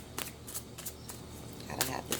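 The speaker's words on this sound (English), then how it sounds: "So I'm sorry if this is a long shuffle for you" Tarot cards are shuffled by hand in several short riffling bursts separated by pauses, close and moderately quiet over a low background hum.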